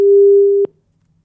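A single steady telephone busy tone sounds loud and clear for about half a second, then cuts off abruptly after a dropped phone call, leaving near silence.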